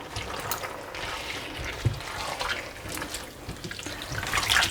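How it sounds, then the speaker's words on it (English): Half a cup of water poured into a pan of spinach and lamb curry gives a steady splashing pour close by, lasting several seconds, with a small clatter midway. "I'm going to add half a cup of water into this"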